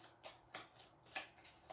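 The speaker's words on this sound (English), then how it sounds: "use Lash's special ability, which allows me to shuffle that card right back into the deck" Cards riffle and snap in short bursts during a solo tabletop game of Aeon's End, four quick soft shuffles spaced evenly, close and quiet with no talking.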